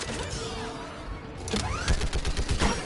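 A mounted gun fires in the Mass Effect Legendary video game, a rapid, dense run of shots and impacts that grows louder and busier partway through, with no speech.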